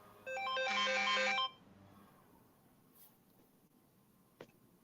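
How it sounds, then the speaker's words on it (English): A mobile phone rings with a bright, tinkling melodic ringtone lasting about a second, then cuts off, leaving quiet room noise and a faint click. "My phone rang."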